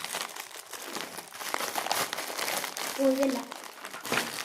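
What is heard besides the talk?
crinkling packaging while unboxing a Labubu toy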